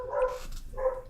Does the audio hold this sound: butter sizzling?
no